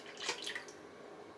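Liquid mixture with added jelly poured into a container, a short quiet splash and trickle lasting under a second, followed by a faint knock.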